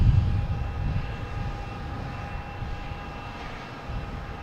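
A British Airways airliner crabbing slightly in a crosswind on approach to land at Boston Logan produces a steady engine rumble, loudest at the start and easing a little as it continues, with no voices.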